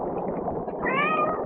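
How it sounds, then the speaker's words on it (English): A single hungry cat meows from a nearby kitchen, one short rising cry heard over a dense, rushing background noise. "Did you hear that? Hear what? The cat."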